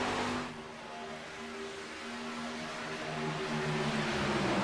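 Race truck engines drone steadily in the IRL Platinum Truck Series racing game at Chicagoland Speedway, a sustained layered hum from several trucks running close together that swells slightly louder toward the end.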